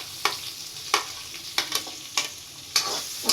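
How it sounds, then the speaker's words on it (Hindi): Chopped onions shallow-fry in a pan for macaroni pasta, a steady soft sizzle broken by about six sharp, evenly spaced scraping stirs, close and with no talk. "थोड़ा सा अनियन को शैलो फ्राई होने तक का वेट करेंगे"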